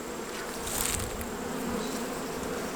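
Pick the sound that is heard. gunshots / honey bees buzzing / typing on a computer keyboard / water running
honey bees buzzing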